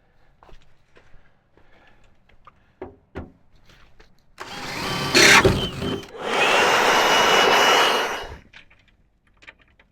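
Air blower blasting wood chips off a Range Road firewood conveyor in two loud bursts, a short one then a longer steady rush, with scattered clunks and knocks before and after.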